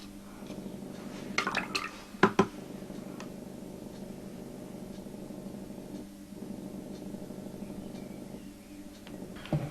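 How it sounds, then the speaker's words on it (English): Water being added to a model terrain diorama: a few soft drips and splashes near the start over a low steady hum, then quieter liquid trickling, faint and close. "A bit of water."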